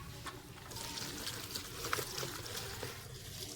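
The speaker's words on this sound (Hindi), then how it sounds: "ये देखें, ये मैंने पुदीना अच्छे से अलग कर लिया था। अब मैं इसको वॉश कर लेता हूँ।" Mint leaves being washed in water, with soft sloshing and trickling, faint drips and small splashes scattered over a quiet background.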